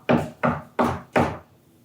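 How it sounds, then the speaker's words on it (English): Four firm, evenly spaced knocks on a wooden office door, close and crisp, each with a short resonant decay, followed by quiet. "His last session of the day knocks on his office door."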